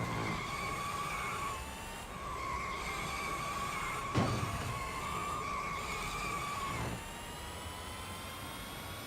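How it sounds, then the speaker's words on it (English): Tyres of a Battista Edizione Nino Farina car in the racing game Real Racing 3 screech in a long, steady skid over a constant engine drone, with a brief thump midway and the squeal easing off near the end. "I also love how you can skid in this car"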